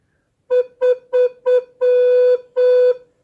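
A recorder plays the note B: four short toots, then two longer held tones, clear and close with silence around them.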